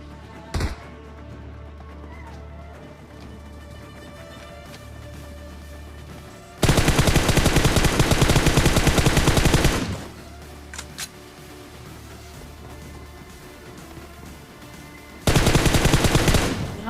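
Loud automatic gunfire in a video game firefight: one sharp early shot, then two long rapid bursts separated by a few seconds of quieter background with faint clicks.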